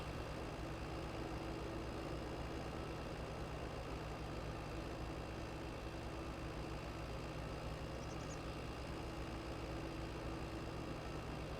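Steady drone of a tractor engine in Farming Simulator 22, running evenly with a low, constant hum and a faint brief chirp near the end, no voices over it.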